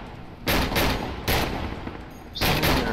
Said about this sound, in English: here you can see the difference between the slug rounds